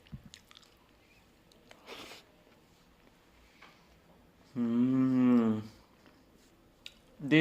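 Someone eats pakora thongba, with soft, intermittent chewing and biting sounds close up. A voice hums or speaks briefly in the middle, and another voice comes in at the end.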